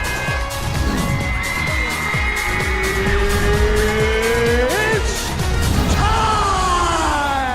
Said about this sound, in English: Oh, you got ran over by a car.